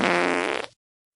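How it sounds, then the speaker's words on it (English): A single short fart, close and fairly loud, with a steady buzzing tone that fades and flutters out after under a second, followed by silence. "Gentle fart."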